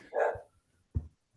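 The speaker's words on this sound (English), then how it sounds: "Someone's got a dog barking." A dog barks twice over an unmuted Zoom microphone during an online lecture, a louder first bark and a shorter second after a pause, slightly distant and compressed.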